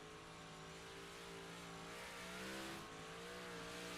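A race car in the iRacing video game drives straight out onto the track, its engine giving a continuous droning hum that swells slightly midway, steady and fairly close, with no talk.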